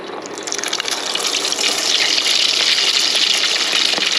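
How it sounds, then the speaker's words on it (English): Spoonfuls of shrimp egg foo young batter drop into hot oil and fry with a steady, loud fizzing sizzle that swells after the first second and holds without a break, no talking over it. "we're gonna drop the egg foo young in by the"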